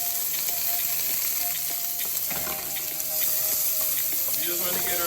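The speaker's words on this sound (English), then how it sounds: "We just want to get our veggies nice and sauteed in our coconut oil" Vegetables sauteing in coconut oil in a pan for a Jamaican shrimp curry, a steady close sizzle and hiss with occasional stirring scrapes.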